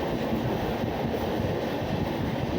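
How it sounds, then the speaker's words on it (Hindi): Rajdhani Express train running through Surat station without stopping on the main line, a steady loud rumble of wheels and carriages with wind rush, recorded from aboard. "यहाँ पर हम सूरत रेलवे स्टेशन को मेन लाइन से विदाउट स्टॉपिंग स्किप करेंगे।"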